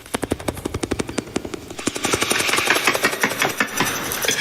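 A voice imitates a helicopter with a rapid train of rhythmic mouth pulses, a close, loud chopping beat that gives way to a steadier breathy rumble.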